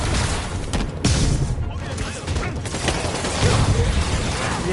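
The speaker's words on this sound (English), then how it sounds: "APC under fire. Repeat, we are taking fire." Gunfire and explosions from the PS4 game Spider-Man, with loud continuous crackling shots and booms across the whole stretch and game voices talking over the combat.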